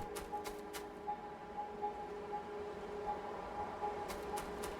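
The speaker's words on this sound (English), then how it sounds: "And there's a train going." Train running in the Factorio game, a faint steady rumble with a low tonal hum, continuous throughout.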